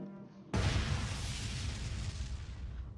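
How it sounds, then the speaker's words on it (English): A giant fiery explosion in the video game Honkai Impact 3rd erupts suddenly after a quiet lead-in, a loud booming blast that rolls on as a sustained, rumbling roar. "Oh look! Giant fiery explosion"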